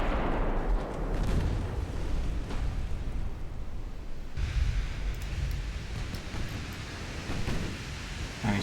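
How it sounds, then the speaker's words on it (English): Naval artillery from a battle cruiser firing at long range in a naval warfare game, heard as a continuous rumbling wash of booming gunfire with sustained low roar and no voices. "he's got a battle cruiser firing on him from long range"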